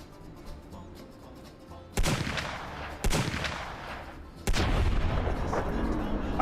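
A gun fires in the video game Fallout: New Vegas, with three heavy, booming shots that each leave a long rumbling tail, the last one loudest, over low background noise.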